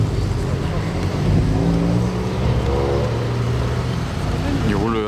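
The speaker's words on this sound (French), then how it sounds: "M6 V10, le mythique V10." A BMW M6 with its V10 engine revs loudly and close at a car meet, the engine note climbing and falling in repeated sweeps with other engine noise around it.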